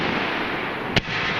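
A single pyrotechnic shot goes off during a live fire demonstration, one sharp short crack cutting through steady loud background noise.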